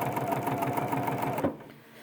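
A Bernina 71 sewing machine stitches quilt binding in a fast, steady mechanical whir with rapid needle rhythm, running close and loud before stopping abruptly near the end, leaving quiet.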